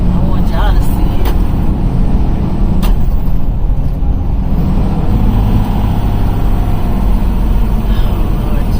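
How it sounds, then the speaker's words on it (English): Road traffic rumbles steadily as cars and buses pass, with heavy engine drone, occasional hiss and clatter, and a voice talking over the noise. "Oh, Lord Jesus, this is traffic."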